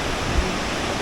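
River flowing beneath a canal aqueduct, a loud, steady broadband rush of water with no breaks, close and constant.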